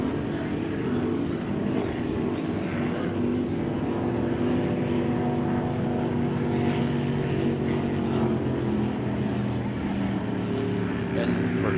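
Racing boat engines drone steadily through a bracket-class race at the Great Lakes Grand Prix, a continuous loud roar heard from a distance, with commentary voices talking over it.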